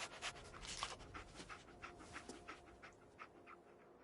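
Dogmeat, the dog companion in the video game Fallout 4, panting in quick rhythmic breaths, close and fairly quiet, with no talking over it.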